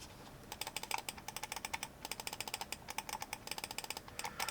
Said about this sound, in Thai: แล้วก็สวิตช์คลิกตัวนี้ใช้เป็น Mechanical นะครับ